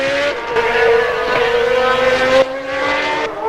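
1991 Formula 1 cars at Interlagos in the Brazilian Grand Prix scream past in loud high-revving bursts, engine whines rising and falling as several cars pass close by one after another.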